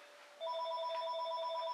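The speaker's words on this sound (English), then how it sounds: "the phone's ringing" A telephone rings indoors in a quiet room, with an electronic warbling ringtone that starts abruptly and pulses rapidly for over a second at moderate volume.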